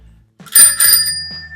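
An old bicycle bell from the 1970s rings close and bright, two quick dings that ring on and slowly fade against a quiet room.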